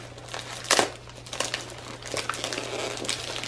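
Gift wrapping paper being torn open and crumpled up close, with a sharp rip near the start followed by steady crinkling and rustling throughout.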